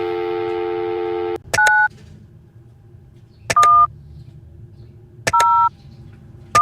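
Telephone keypad tones sound in a video game while a four-digit PIN is entered, beginning with a steady dial tone and followed by several crisp, separate two-note beeps with short pauses between them, loud and clean.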